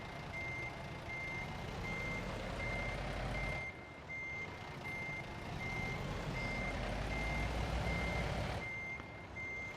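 A truck in American Truck Simulator reversing, its steady high-pitched backup beeps repeating evenly over a loud, continuous engine rumble with a brief dip in the noise partway through.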